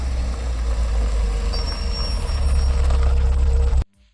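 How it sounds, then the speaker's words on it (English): Hollywood-style car brake squeal effect: a heavy engine rumble joined midway by a thin, high squeal, then cutting off abruptly to near silence near the end. "that brake squeal you hear on so many Hollywood movies"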